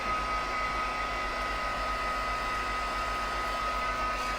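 A heat tool blows steadily to warm up tape, a continuous loud whooshing drone with a motor hum that holds even and close throughout, with no talk over it.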